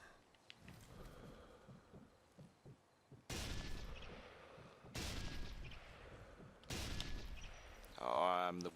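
Sniper rifle shots in Sniper Elite 3, a shooter video game, ring out as three loud, separate cracks with echoing tails, spaced a couple of seconds apart over a quiet ambient background.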